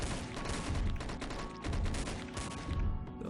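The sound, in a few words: machine gun firing in the video game Dead Ahead: Zombie Warfare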